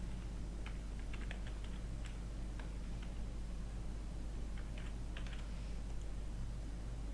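Keys on a computer keyboard tap in quick irregular clusters as data is typed into an Excel spreadsheet, with soft clicks separated by short pauses over a steady low hum.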